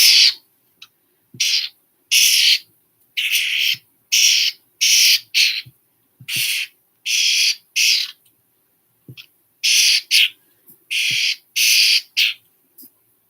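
Starling calling in repeated bursts of harsh, squeaky whistles and chatter, about a dozen short phrases separated by silent gaps, close and clear.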